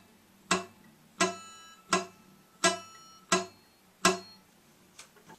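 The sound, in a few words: guitar high E string picked straight down, thumb hitting string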